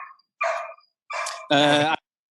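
A dog gives a few short barks and yips close by, separated by silent gaps, ending in one louder, longer bark.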